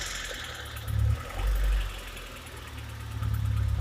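A Honda Civic Estilo engine idles and then revs as the throttle is turned, with a steady mid-level rumble that swells in a few short surges before rising again near the end.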